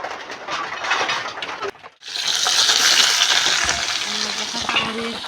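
Garlic and onion frying in a pan while greens cook in a simple village-style home kitchen, giving a loud, steady sizzle after a brief drop to silence, with faint clinks over the crackle.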